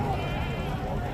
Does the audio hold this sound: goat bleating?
yes